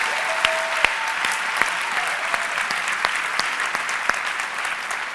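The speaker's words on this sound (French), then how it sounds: "Est-ce qu'on peut juste acclamer le Seigneur très fort dans ce lieu?" A church congregation claps and cheers loudly for the Lord in a worship hall, a steady wash of applause with sharp individual claps and scattered whoops, no speech over it.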